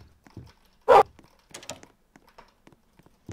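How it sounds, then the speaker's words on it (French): A dog character in the Roblox game Piggy gives a short, loud bark-like whimper in a brief burst, followed by scattered quieter clicks and thuds over near silence. "C'est un chien."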